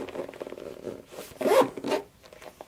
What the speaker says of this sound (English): all of that zips up nicely